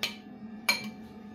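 A utensil mixing food in a cooking pan gives two crisp metallic clinks, one at the start and one shortly after, close and moderately loud with a quiet gap between.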